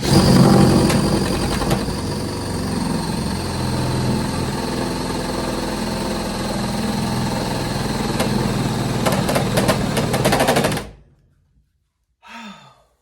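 A power drill bores through a fairly thin board, running steadily and loudly for about eleven seconds before cutting off, followed by a short quiet gap and a brief faint noise at the end.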